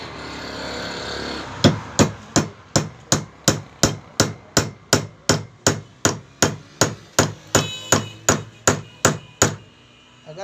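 A hammer drives a pointed tool to punch holes in an LED bulb. About twenty sharp, loud strikes land close by in a steady, even rhythm, each one ringing briefly and cutting off short, with no talking.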